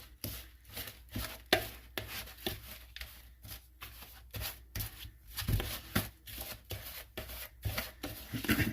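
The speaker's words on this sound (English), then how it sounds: "So I'm using margarine, and I'm gonna cream it together real fast." Piloncillo and margarine are creamed together in a bowl, a fast rhythmic scraping and thumping of a utensil, close and steady, with no talk.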